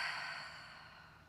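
A long, soft exhale through the nose and mouth during a vinyasa yoga flow, close and breathy, fading steadily over about a second with no talking.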